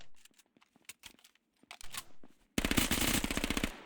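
A new submachine gun in the video game H1Z1 King of the Kill fires a loud, rapid automatic burst of evenly spaced shots, preceded by scattered quieter clicks and handling sounds.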